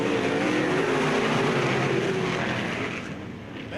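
Modified race cars roar around the Bureau County Speedway track in a heat race, a dense, continuous engine drone heard from a distance that eases slightly toward the end.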